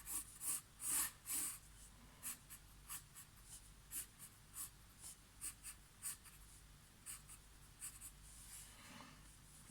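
A pen scratches across paper in a series of short strokes, first a few louder scribbles and then a steady run of quieter, evenly spaced marks, close and without talk.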